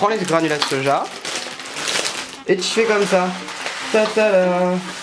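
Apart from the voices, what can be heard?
rehydrated soy granules frying in hot oil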